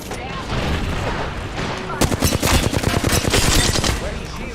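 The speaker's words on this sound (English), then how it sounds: "He's shooting at me." Rapid automatic gunfire in the Apex Legends video game, loud dense bursts of shots with sharp volleys intensifying after the first couple of seconds, under speech.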